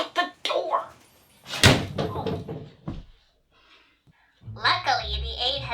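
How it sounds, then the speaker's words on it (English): A door slams shut with a single loud, close thud amid excited voices in a comic sci-fi audio drama. Talking continues before and after the slam. "Shut the door."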